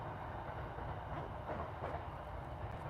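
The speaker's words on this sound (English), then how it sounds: "Can you hear the train in the background, by the way?" A train rumbling past at a distance beside a night wild camp, a continuous low roar with faint rhythmic clatter, steady and fairly quiet throughout with no voices.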